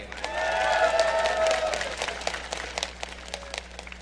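A large crowd at the 2012 League of Legends World Championship esports event breaks into loud applause and cheering for a player introduction, swelling quickly, then thinning into scattered claps.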